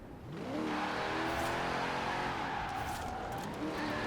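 A stock, unmodified V8 rear-wheel-drive ute-style van in Forza Horizon 4 drives hard, its engine revving loudly and steadily with rising pitch sweeps and a hint of tire scrub, no voices.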